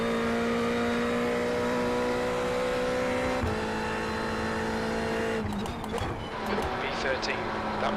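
A GT3 race car in iRacing at Watkins Glen drones at high revs with steady engine tones, shifting gears and then a rougher stretch of revving and tire noise, continuous and loud throughout.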